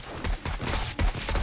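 Rapid bursts of gunfire crack out in the zombie survival game 7 Days To Die, several shots overlapping in quick irregular volleys, loud and close.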